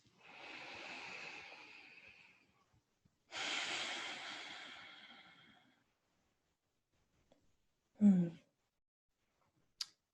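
Slow, calm breathing during a pause in a trauma-informed yoga session: two long, soft, close breaths separated by silence, then a brief low snort and a faint click near the end.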